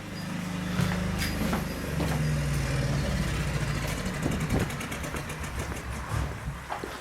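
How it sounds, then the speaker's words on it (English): A Hyundai DHY8000SELR silenced long-run diesel generator winds down from a steady low idle hum, the engine rumble fading and breaking into a few last uneven knocks and clicks before it stops, heard alone at moderate distance. "now the generator should turn off"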